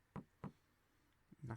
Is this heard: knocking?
yes